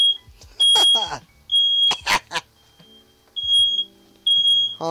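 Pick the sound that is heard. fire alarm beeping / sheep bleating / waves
fire alarm beeping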